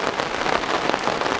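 Steady rain patters on the surface at Soyang Lake, a dense, even hiss of drops with no talking.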